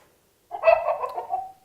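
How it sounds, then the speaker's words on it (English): A cartoon chicken cluck from the Hopspots matching game, a single short burst of clucking chatter lasting about a second, clear and close after a brief silence. "A chicken."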